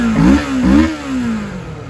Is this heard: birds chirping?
no